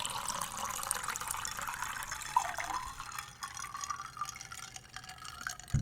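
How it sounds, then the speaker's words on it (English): Fiji bottled water poured into a cup, a soft, steady trickle and splash close by that runs for several seconds and then tapers into quieter drips. "So let me pour some of this water into my bad bitch juice cup."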